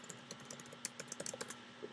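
Password typed on a computer keyboard: a quick run of light, irregular key clicks, close and fairly quiet, with a faint steady hum underneath.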